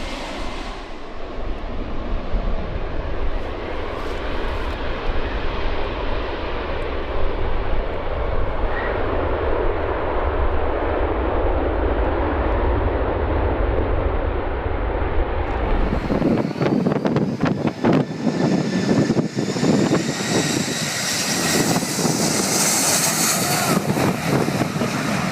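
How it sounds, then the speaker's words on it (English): A Boeing 757 jet airliner makes a short field landing, its engine roar loud and sustained with heavy wind buffeting, shifting midway into a harsher, brighter rush as the aircraft touches down and slows. "Don't miss this impressive short field landing performed by a Boeing 757."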